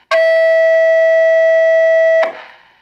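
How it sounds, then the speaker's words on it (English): A Cobra 2000 CB radio lets out a loud, steady high-pitched squeal for about two seconds when a Cobra 90 is keyed up nearby, ending in a short burst of hissy static. "this thing's about to squeal because I'm just going to key up the Cobra 90 and show you that it receives"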